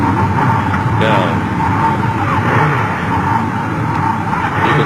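1100cc Suzuki racing motorcycles roar through a heat race at Carnaby, a loud continuous engine drone with shifting pitch as bikes pass, under a commentator's voice.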